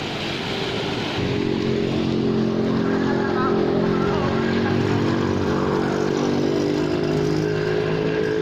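A car drives through flood water in a flooded street of Banda Aceh, its engine a steady, near drone with a faint wash beneath that continues without a break throughout.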